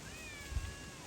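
A pet cat named Walter gives a single short, sweet meow for attention, fairly close and soft over a quiet room background.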